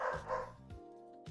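A pet dog indoors gives two close barks followed by a higher yip and a short whine, moderately loud in a quiet room with a faint tonal hum.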